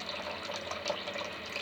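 Water drains steadily out of a toilet cistern with a diaphragm ballvalve, making a faint, continuous trickling and gurgling rush close by, with no talk.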